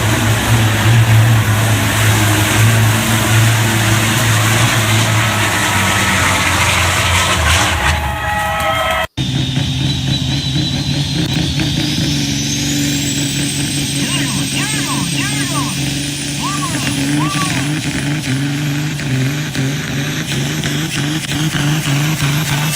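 Semi trucks rev and roar at a truck racing event, engines droning loudly and continuously with rising and falling pitch, a sharp break midway, then a long climbing whine as one accelerates; voices talk over the noise.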